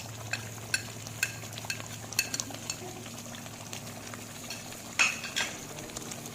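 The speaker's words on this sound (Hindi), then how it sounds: "इन सारे स्पाइसेस को हम चम्मच की मदद से अच्छी तरह से मिक्स कर लेंगे" A spoon stirs and scrapes through spices such as turmeric and crushed coriander in a metal karahi, giving intermittent clinks and scrapes over a low background hum, with a louder knock near the end.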